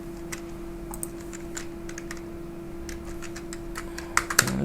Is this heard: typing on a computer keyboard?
yes